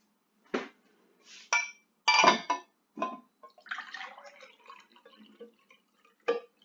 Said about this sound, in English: Just going to get some water.